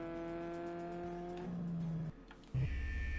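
In a racing video game, the Drift Tech car drives hard with a steady engine whine that drops in pitch as it shifts, cuts out briefly, then returns with a louder, lower revving tone.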